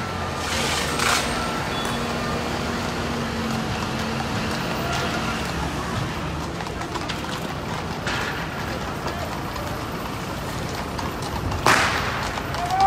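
Street traffic with trucks rumbling past during a protest in Brussels, a steady wash of engine noise with occasional sharp cracks and a vehicle horn near the end, while someone talks over it.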